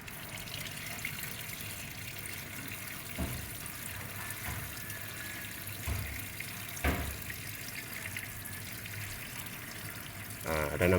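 Water is slowly poured off from a container once the sediment has settled, giving a steady trickling wash with occasional splashes and knocks.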